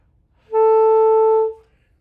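A single sustained low F sharp on saxophone, steady and clear, held for about a second with a clean start and fade, in otherwise quiet surroundings.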